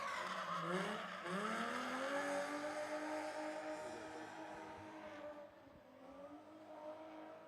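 A Nissan 350Z race car at full throttle during qualifying, its engine wailing and rising through gears, with tire squeal and skidding as it drifts past, fading somewhat toward the end.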